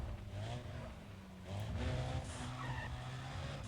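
Car tires screech through repeated handbrake skids in Need For Speed Undercover, two or three squealing bursts over engine revving, moderately loud, with no speech.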